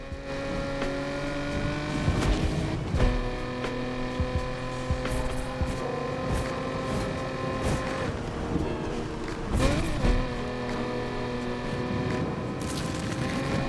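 Game car engine in Need for Speed Unbound revving eagerly, harmonic tones rising and falling continuously across the stretch with brief surges, alongside other race sounds and a faint voice.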